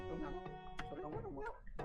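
A dog barks in the game Ōkami HD, a few short yips and barks mixed with a sustained musical score, with a voice speaking over the scene.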